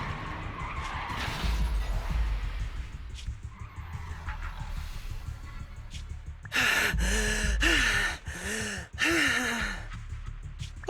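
Truck in the Zenless Zone Zero video game swerving and crashing, with loud bursts of tire skidding and screeching impacts through the second half, after a quieter stretch of low rumble and breathy gasps.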